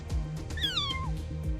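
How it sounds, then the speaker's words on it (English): A cat in the video game Love Spell gives a single rising-then-falling meow, short and clear, over faint rhythmic background music. "Mina meows at me hurriedly as she faces the portal"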